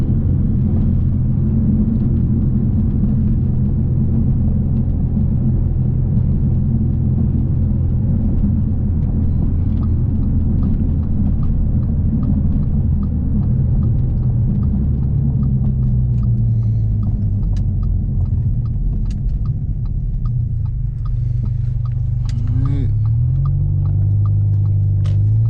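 An 800-horsepower big-turbo Audi drones loudly and steadily on test runs, its deep engine rumble holding for a long stretch before the pitch shifts and rises near the end.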